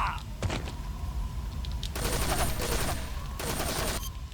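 Metal Gear Solid 3 gunfire comes in loud, close bursts, a short volley near the start and a sustained stretch of rapid shots in the middle, with no talk over it.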